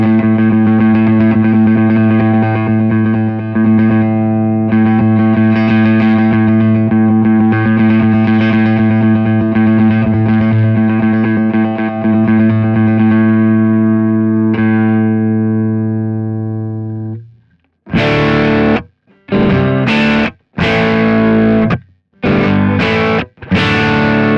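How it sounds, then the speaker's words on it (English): An electric guitar plays a sustained A note through an RC Booster boost pedal as the gain is swept, a loud held tone ringing for about seventeen seconds before a run of short, choppy repeated stabs. "I'm going to just play an A note and I'll cycle through the gain. So you can just kind of hear the range of gain that I can achieve with this boost pedal"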